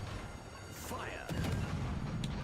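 Warship guns in World of Warships: Legends go off with a heavy booming blast partway through, followed by rumbling aftermath, with game voices and effects around it.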